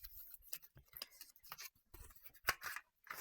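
Soft crinkling and creasing of paper as a crafted explosion box is folded, a close, quiet run of scratchy rustles and small crisp snaps with no talking.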